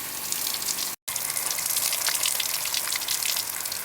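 Water streams steadily from an off-grid solar camping shower, a dense close hiss that drops out for a split second near the start, then pours on unbroken.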